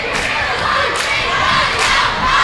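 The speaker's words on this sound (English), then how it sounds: "Both crowds are into it." A packed high school basketball gym roars as both home and visiting crowds cheer and shout continuously late in the period, loud and dense with scattered yells rising above the din.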